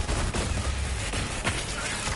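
Rapid gunfire from Zane's weapon in a Borderlands shooter, dense bursts of shots packed tightly together into a continuous crackling barrage, loud and close with no pauses.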